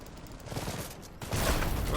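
Gunfire and artillery in the strategy game Iron Harvest, a rattling burst of shots that swells into a louder, dense barrage of firing near the end.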